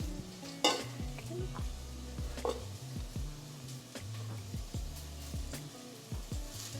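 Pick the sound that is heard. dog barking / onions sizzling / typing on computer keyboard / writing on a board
onions sizzling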